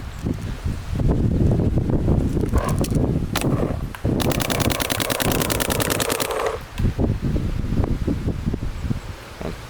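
Planet Eclipse LV2 paintball marker firing a fast, even string of shots in a steady burst for a couple of seconds, close up, with wind and outdoor rustle around it and no speech.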